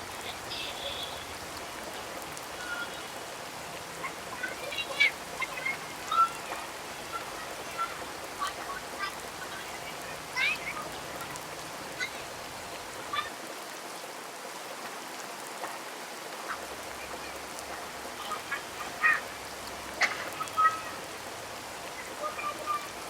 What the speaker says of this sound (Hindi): और आज बहुत ज़बरदस्त वाली बारिश हो रही है इतने दिनों बाद